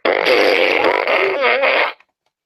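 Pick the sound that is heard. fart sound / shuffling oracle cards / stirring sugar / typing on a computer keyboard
fart sound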